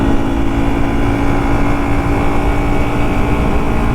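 Steady, loud single-cylinder engine of a CFORCE 600 Touring ATV running continuously, with a constant low drone and no audible change in pace throughout.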